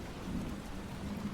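Rain falling steadily with a low thunderstorm rumble beneath, faint and continuous over a short stretch.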